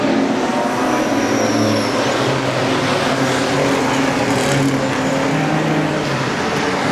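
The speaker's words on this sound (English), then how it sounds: "The second of our stock car races." Stock cars race around a breezy speedway, their engines roaring in a continuous loud drone with rising and falling revs as the pack circles, plus wind noise, with no voices over it.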